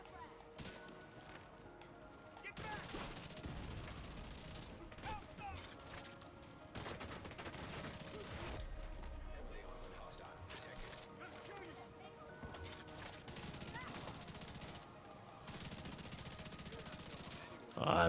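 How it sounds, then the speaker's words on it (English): Sustained bursts of automatic gunfire from The Division 2 video game, dense rapid volleys running nearly continuously at steady loudness with brief pauses, mixed with game sounds and a voice talking underneath. "Oh, I missed a lot of shots right there."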